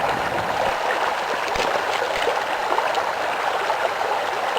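A river flowing steadily, a broad continuous rush of water with no voices, close and even throughout.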